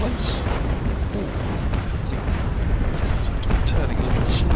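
Starboard-side broadside cannons of a sailing warship in Naval Action Legends, set in snow, fire as a continuous heavy rumbling barrage of booms with a few sharper cracks near the end, under a voice.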